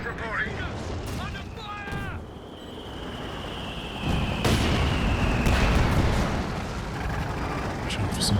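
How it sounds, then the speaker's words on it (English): Tank cannon fire with high-explosive rounds in Company of Heroes 2, a competitive 2v2 match: heavy booming blasts over a continuous battle rumble, with a sharp burst near the middle and a whistling shell streak, under a commentator's voice. "Trying for some cheeky attack rounds there with HE rounds."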